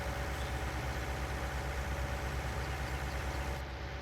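Tractor engine idling in Farming Simulator 19, a steady low mechanical hum with a faint tonal whine, even and unbroken throughout.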